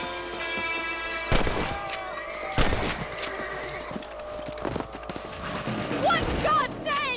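Rifle shots at rabbits in Red Dead Redemption, several sharp loud cracks spaced a second or so apart amid rustling and mechanical clatter, with voices talking in between.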